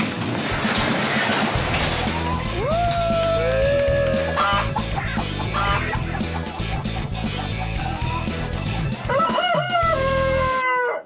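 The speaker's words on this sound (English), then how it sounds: "Are these chickens ready to show this chicken coop?" Chickens in a coop cluck and crow close by amid a noisy scene of clattering and commotion, with a rooster-like crow rising near the end.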